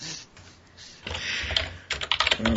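Someone types on a computer keyboard nearby, with rapid clattering keystrokes that begin softly and grow denser and louder toward the end.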